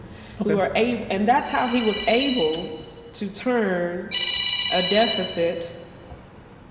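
An electronic telephone rings in repeated high bursts during a news interview with a Texas 18th Congressional District candidate, sounding over continuous conversation.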